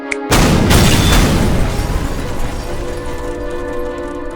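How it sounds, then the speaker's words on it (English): A sudden heavy boom from a star power attack in Minecraft bursts in loud and broad, then rolls on as a long rumbling tail that slowly fades without dying out completely. "Nuclear fusion being used to create an explosion at a spot I want to target."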